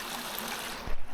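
Water flowing outdoors makes a steady broadband rush at close range, with a brief low bump near the end and no voices.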